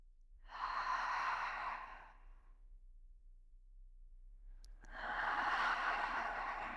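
Two slow, deep breaths of tantra belly breathing, each a long airy exhale close to the ear, separated by a quiet pause.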